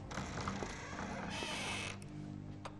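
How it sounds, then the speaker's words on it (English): An old door in a period gothic house slowly creaks shut in a quiet interior, one drawn-out groan of wood and hinge with a brief click near the end. "I must close the door."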